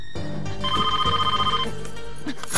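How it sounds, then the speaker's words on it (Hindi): An indoor telephone rings loudly with a bright, repeating electronic bell tone during a Hindi TV drama scene, with a faint music bed underneath and no talking. "महर का फोन होगा, महर का फोन होगा।"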